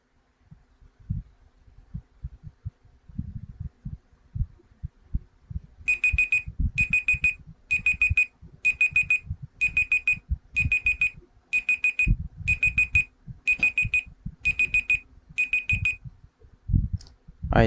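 A timer alarm going off in a classroom setting, a series of rapid electronic beep bursts repeating evenly, heard alongside low thumps and background movement, with no speech.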